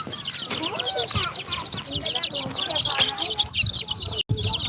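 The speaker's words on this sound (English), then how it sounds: "No idea what to do with all these wet chicks." A crowd of wet baby chicks cheeps continuously and busily in high, rapid chirps, many overlapping calls close by, with faint clucking beneath.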